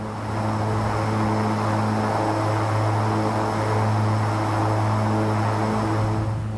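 Steady, loud drone of a King Air 350 twin turboprop in X-Plane 11, a constant propeller hum with strong low tones holding even throughout, with no speech.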